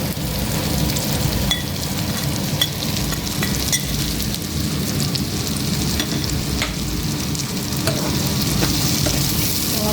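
Diced paneer and coriander are stirred into fried onion in a pan, with a continuous, close sizzle of frying and the scrape of a spoon running throughout.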